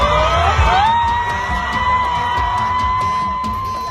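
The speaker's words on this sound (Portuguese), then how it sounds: "As crianças gritam animadas" Excited children shout and whoop in a crowd on a hot night in the Iracema neighbourhood of Campo Grande, Rio de Janeiro, a loud, sustained wash of rising and falling voices, with a few cries standing out.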